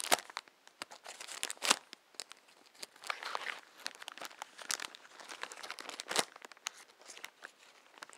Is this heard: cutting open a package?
yes